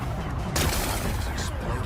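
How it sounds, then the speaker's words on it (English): Rocks are blasted apart in Horizon Forbidden West with a sudden loud burst of explosive noise, followed by a rumbling wash of debris that fades over a couple of seconds. "Gotta blast away some rocks, so I can expose the power cell"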